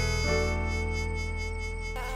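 A flying insect buzzes close by in an animated story, a steady whining drone that holds for about two seconds.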